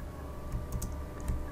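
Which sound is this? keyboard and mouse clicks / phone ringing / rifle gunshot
keyboard and mouse clicks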